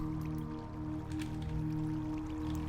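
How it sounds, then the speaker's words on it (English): Minecraft water source placed on a sign: a faint, steady watery trickle with soft squishy drips running continuously beneath a low background hum. "I can put a water source, I think, right on top of the sign like this"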